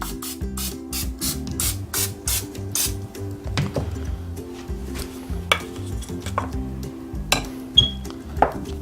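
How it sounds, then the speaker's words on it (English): Oven spray hissing in a series of short bursts onto a cast iron waffle iron on a stovetop, followed by quieter metallic clinks and handling. "We're going to use some oven spray."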